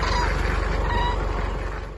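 A flock of wild cranes on winter migration in Israel calling together, a dense chorus of honking cries that keeps going and fades slightly toward the end, with no people talking.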